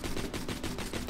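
The Lady Fist pistol in Borderlands 2 fires a rapid string of shots, about eight loud, evenly spaced cracks in under a second and a half, close and punchy.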